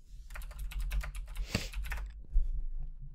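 Keys clatter in a quick, steady run on a computer keyboard as a food scale search is typed into Amazon, close and clear, with a brief pause and a final harder keystroke near the end.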